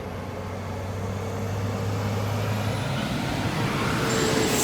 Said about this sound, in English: Traffic coming off of the Heroes Highway north